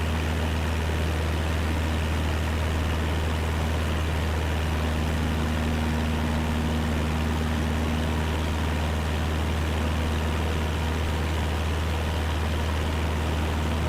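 A simulated aircraft engine drones steadily while cruising at 5,000 feet in a flight simulator game, a constant low hum with no change in pitch or level throughout.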